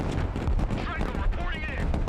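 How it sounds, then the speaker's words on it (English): Dense crackling gunfire and booming artillery from the military strategy game Broken Arrow, a continuous loud barrage with radio-style voices speaking over the battle. "Artillery ready to fire, sir. Direct fire on my mark."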